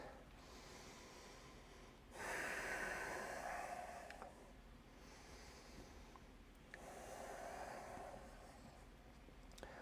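Deep yoga breaths come in two long, slow cycles, each a loud airy inhale or exhale through the nose lasting about two seconds, separated by quieter pauses.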